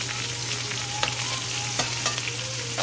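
Shrimp sizzle and fry in olive oil and butter over medium heat, a loud, close, continuous crackle with occasional sharper pops and stirring.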